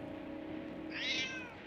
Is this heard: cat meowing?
yes